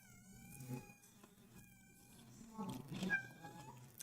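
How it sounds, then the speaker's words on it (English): Pet cat Hercules meowing indoors, a few drawn-out, quiet, wavering calls spread over several seconds against a soft room background. "The cat is calling."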